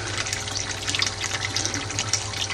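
Water pours continuously from a swirl filter outlet into an aquaponics tank, a steady close splashing and gurgling stream with no voices.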